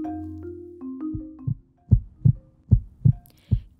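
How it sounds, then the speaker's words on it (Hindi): A heart beating fast after running, a steady run of low, thudding beats, close and distinct, with a soft low hum at the start before the pulses come through clearly. "दौड़ लगाने के बाद तेजी से धड़कते दिल की आवाज आपने जरूर सुनी होगी।"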